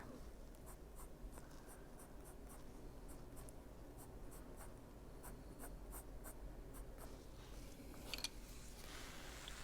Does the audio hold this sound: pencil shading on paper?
yes